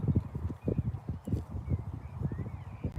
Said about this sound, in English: Pretty horse, though, isn't it?